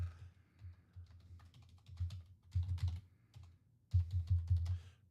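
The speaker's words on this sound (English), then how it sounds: "I'm typing that up right now" Rapid keystrokes on a computer keyboard clatter in uneven bursts, close and fairly quiet, with louder flurries of typing after brief pauses.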